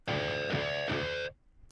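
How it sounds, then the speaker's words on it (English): A distorted electric guitar rings a natural harmonic at the 3rd fret, struck about three times in quick succession. The bright note sustains loud and close, then cuts off abruptly. "we're gonna play a natural harmonic in the middle of the 3rd fret, so like this."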